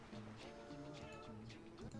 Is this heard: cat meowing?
yes